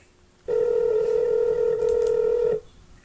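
A phone line sounds one long steady electronic tone lasting about two seconds, loud and close, then cuts off abruptly, with no voices.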